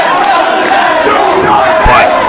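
A packed crowd at a pro wrestling match between Steen and Daniels roars and cheers loudly and steadily, a dense wall of voices with rising shouts.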